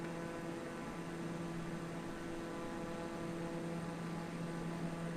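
Steady propeller-plane drone in Microsoft Flight Simulator over San Francisco Bay, a continuous even hum with a buzzy engine tone throughout, no talking.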